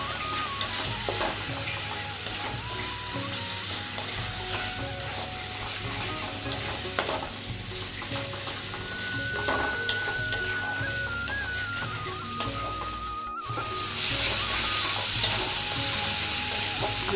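A spice masala of chili powder, cumin powder and a little water sizzles in a pan while being stirred, with continuous frying hiss, scraping stirs and clinks, growing louder near the end.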